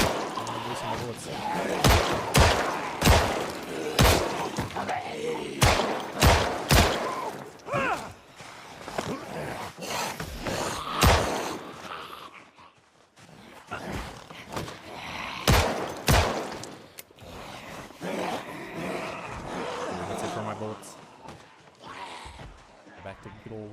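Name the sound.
gunfire from guns in the Project Zomboid video game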